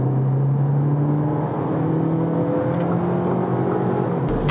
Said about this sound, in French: Bah, j'accélère juste sur la pédale de droite, je crois.